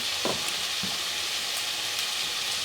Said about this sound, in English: So we have the oil, the bean sprouts, and the onions. I'm gonna let that cook for a few minutes.